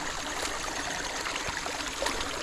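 A cold, remote fishing creek flows steadily, a continuous broad rushing and trickling of water with small splashy gurgles, close by and even in level, with no voices.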